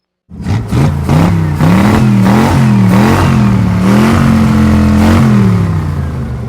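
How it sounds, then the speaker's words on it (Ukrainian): A car engine revs in a Roblox video game, a loud, steady engine tone that rises and falls in several surging pulses over about six seconds, with no talk over it. "Ого, машинка така."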